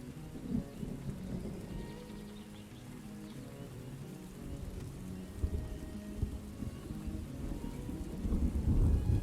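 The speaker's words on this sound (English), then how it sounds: "Alright, here comes the lightning. Let's see if it hits a building." Rumbling thunder from a lightning storm over a colony settlement in the strategy game Farthest Frontier, low rolling booms over steady rain, swelling louder near the end, with no one speaking.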